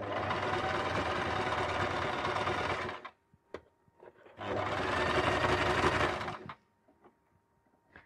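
A sewing machine stitching a Christmas stocking whirs in two steady runs of about three and two seconds, loud and near, separated by a pause filled with small clicks and handling noises.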